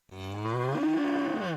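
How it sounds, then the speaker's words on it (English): A single cow gives one long, loud, close moo that rises in pitch and then falls, heard alone in a radio advertisement. "This is a cow whose milk became everyone's favorite cheese at the craft fair"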